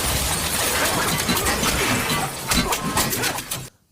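A tank bursts apart in a Ben 10 film scene, a loud sustained crash of shattering debris lasting several seconds before cutting to silence.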